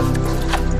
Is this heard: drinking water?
yes